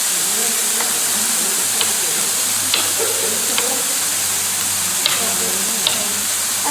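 Peppers and other vegetables sizzle steadily in a frying pan while being cooked for a vegetable medley quiche, a constant close hiss with a few light clicks of stirring, and no talking.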